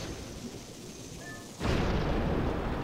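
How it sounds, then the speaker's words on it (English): A bomb detonates inside an air vent in Zelda: Twilight Princess, a sudden loud, dense boom that cuts in midway through a quieter ambient game background and sustains as a rumbling roar. "Now you gotta place a bomb in the vent, so it'll be carried up into the boulder."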